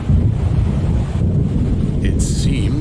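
Wind gusting with waves on Cauldron Lake in the video game Alan Wake, a steady loud rushing roar with low rumble, joined near the end by a brief higher-pitched effect.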